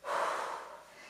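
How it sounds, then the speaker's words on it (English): A single deep breath, a brief breathy exhale taken during a core strength workout, close and soft, lasting about a second. "Nice deep breaths."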